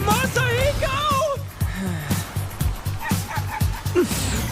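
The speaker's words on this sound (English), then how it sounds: "Masahiko is a dog" An anime dog named Masahiko yips, whimpers and barks in a quick series of short excited bursts, close and loud, with other cartoon voices and chatter mixed in around the dog sounds.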